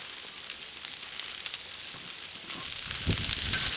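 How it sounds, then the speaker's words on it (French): Courgette slices sizzle and crackle steadily on a hot plancha, a dense, even frying hiss throughout that swells slightly louder near the end. "On va laisser tranquillement notre courgette cuire, comme ceci"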